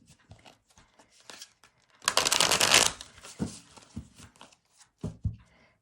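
A deck of tarot cards is riffle-shuffled in one dense, crisp flurry lasting under a second, close and fairly loud, with scattered quieter card handling and taps before and after.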